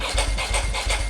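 A Ducati Monster S4R S with a dry clutch idles up close, its engine throbbing in an uneven lumpy pulse with loose mechanical rattling over the beat.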